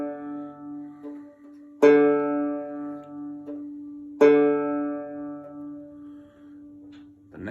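A low bass D string on a banjo is plucked twice, each note ringing out bright at first and slowly decaying, with a quieter tone sustaining between.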